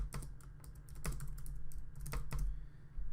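Rapid typing on a computer keyboard, a steady run of close, crisp key clicks with a few louder strokes, entering an error message into incident management software.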